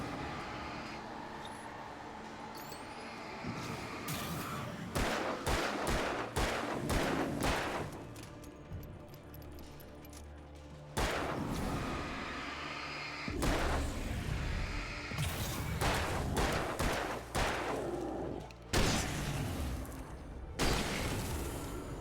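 Rifle shots ring out in the video game Alan Wake. Several sharp blasts and bursts are spread irregularly across the stretch, set over a steady, low game ambience. No voices.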